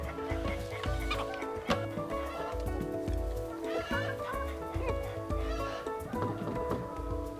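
Hens cluck and call on a farm with soil-fed chickens, several birds heard close in a steady, overlapping chatter with no talk.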